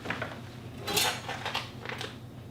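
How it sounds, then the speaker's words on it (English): A knife slices open a sealed package of six-month-old aged raw meat, giving a few brief crinkling, scraping cuts in close succession with no talking. "So let's cut this open"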